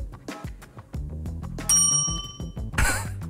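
A quiz contestant rings a small tabletop bell during a word game, one bright ding rising over a busy room of shuffling and murmuring, with another sharp clatter soon after.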